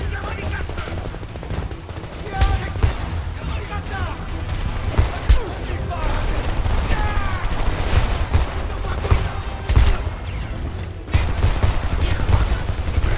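Shooter gameplay in Homefront with dense gunfire, rapid bursts and single shots cracking repeatedly over about thirteen seconds, some loud close volleys and sharp impacts, with voices talking intermittently underneath.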